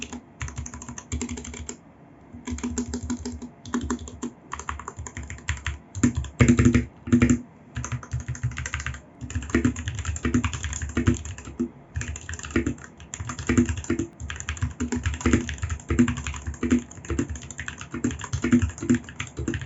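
Steady, fairly loud typing on an RK61 mechanical keyboard modded with Band-Aid, inside tape and foam, muted thocky keystrokes in continuous rhythmic runs with a few short pauses, no talking.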